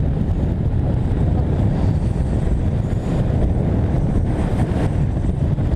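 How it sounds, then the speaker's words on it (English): Wind buffets the microphone loudly and continuously while riding a 2015 Yamaha R1 motorbike on the road, a constant roaring rush that swamps everything else. "Wind's a bit noisy, can't hear myself think"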